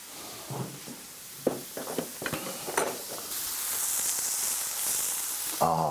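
Ground turkey burger patties seasoned with Dijon mustard and spices sizzle in a cast iron pan over an open flame, with scattered scraping and clatter at first, then a steady, loud frying hiss.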